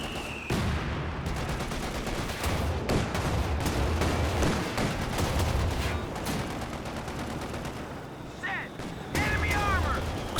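Sustained machine gun fire and scattered explosions from a Company of Heroes 2 battle, dense rattling bursts over rumbling booms for several seconds, with the mix briefly dropping near the end before firing resumes.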